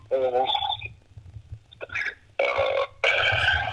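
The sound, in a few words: burping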